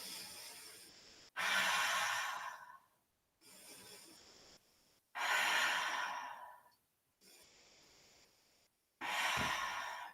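Slow, deep breathing during a yoga session, with long audible inhales and exhales alternating in a steady rhythm and quiet pauses between them, close and clear.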